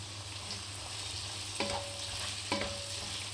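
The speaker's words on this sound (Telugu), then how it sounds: "ఒక 3 పెద్ద సైజు ఉల్లిపాయలు ఈ విధంగా సన్నగా చాప్ చేసుకొని వేసుకొని ఫ్రై చేసుకోవాలి" Finely chopped large onions fry on low flame in a pan, a soft steady sizzle under occasional scraping stirs, with a couple of sharper clinks from the spoon on the pan.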